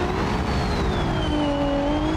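A Formula Three race car on a qualifying lap at the Brazilian Grand Prix passes by, its engine a steady high-pitched whine whose tone rises and then falls as it goes past over constant track noise.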